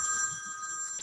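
A cell phone rings at a public committee meeting with a steady electronic warble, moderately loud and close, for about a second.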